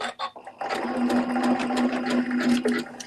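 A sewing machine runs steadily at close range, stitching a lock stitch at the end of a seam while beads are sewn onto a project, with a continuous whirring hum and a rapid mechanical patter.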